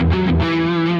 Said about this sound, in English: palm muted downstrokes with the low open E string